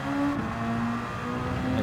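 A Red Bull X2014 race car engine in the video game Gran Turismo 7 drones steadily at high revs, close and loud, with a brief pitch shift as the gear changes down under braking.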